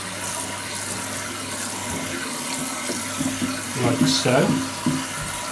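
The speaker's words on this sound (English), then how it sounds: "rinse the system the way we always do, from the underneath. Washing it through the system, getting off all that colour" Tap water runs steadily into a sink, rinsing dye out of a repaired hair system, with a continuous gush whose splashing grows as the piece is squeezed under the stream; a voice speaks briefly over it.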